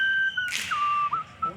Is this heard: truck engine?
no